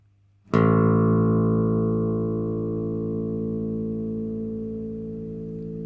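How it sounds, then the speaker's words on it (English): A single low bass guitar note, the open A string tuned to A, is plucked and rings out steadily, sustaining for several seconds and slowly fading, with no talking. "The third string is known as the A string and is tuned to the note of A."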